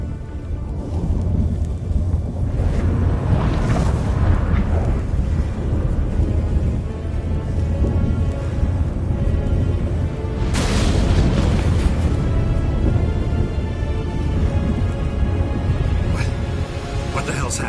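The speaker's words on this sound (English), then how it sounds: "That a storm?" A thunderstorm in The Witcher 3: Wild Hunt, with a continuous loud rumbling roar and heavy booming surges, constant low turbulence, and talk over it.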